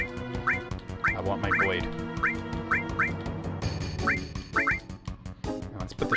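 Repeated cartoonish quacking from birds in the Final Fantasy VII minigame, short honking calls in irregular bursts over upbeat game music, with a brief spoken line.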